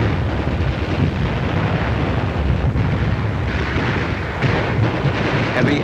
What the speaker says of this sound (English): When this Jap ammunition dump blew up, it shook the whole island